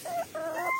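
Hens and a rooster at a poultry farm cluck close by in short, bright, rising calls, quick and uneven, with no talk.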